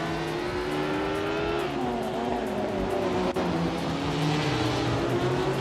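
Classic Formula One cars including a Lotus 33 race in a video game, engines howling loudly with rising and falling pitch as they accelerate and shift, a continuous layered racing drone.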